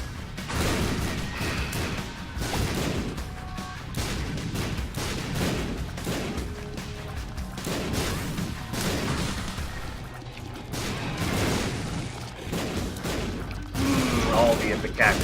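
Ipecac explosive tear shots in the video game The Binding of Isaac: Afterbirth+, a dense barrage of repeated booming blasts and crashes over many seconds, with a person talking underneath.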